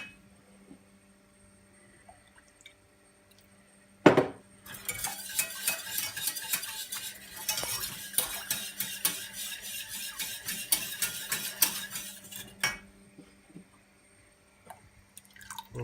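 Milk being stirred into a mixture in a bowl: a sharp knock, then about eight seconds of steady wet scraping and clinking of a utensil against the bowl, close and moderately loud, with quieter pauses before and after.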